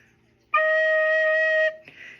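A single sustained soprano recorder note, a low D sharp, clear and steady, held for about a second with a soft breathy onset, played alone.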